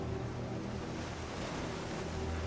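Ocean waves on a winter shore, a steady, loud wash of surf with a constant roar and no distinct breaks between waves.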